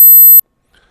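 A loud, high-pitched generated test tone holds steadily for under half a second and then stops abruptly, leaving near silence.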